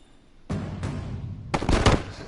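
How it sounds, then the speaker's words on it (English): Gunfire in The Last of Us on PS4: loud close bursts of shots and rapid volleys cracking in two clusters, the second denser and heavier, with no talk over them. "They're shooting at somebody."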